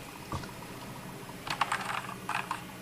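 Keys clacking on a Havit RGB backlit wired mechanical gaming keyboard: a single early press, then a quick cluster of close, crisp keystrokes and a short final burst, quiet and alone.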